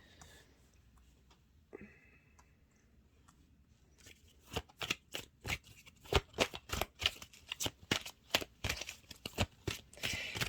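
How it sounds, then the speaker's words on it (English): Tarot cards are handled and laid out, starting with faint scattered rustles, then a quick run of sharp snapping card flicks and shuffles close by. "Let me put these cards here for you to see."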